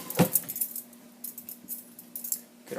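A vegetable peeler lifted from a kitchen utensil drawer, giving a short loud metallic clatter and jangle at the start, then a few faint light rattles in a quiet room.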